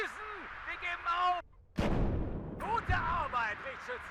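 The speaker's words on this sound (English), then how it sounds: "That was an SPG-9 that was firing at me" A single heavy SPG-9 recoilless gun shot booms loudly in the WARNO war strategy game, a sharp blast with a rumbling tail, with brief voice lines before and after.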